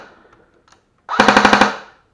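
A JG T3 Shorty MC51 G3-style airsoft gun, freshly fitted with a new motor, fires one quick burst of about seven snappy shots at a fast rate after a brief quiet pause, close and loud with no talking.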